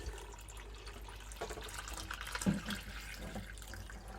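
Water poured around the base of tomato plants trickles and gurgles as it soaks into the soil, a faint, close, uneven dribbling with occasional drips and no speech.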